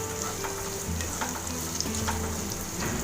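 Finely chopped onions sizzle and fry steadily in a pan after ginger and garlic while making chili garlic prawns, with a close continuous crackle and occasional stirring scrapes, no talk.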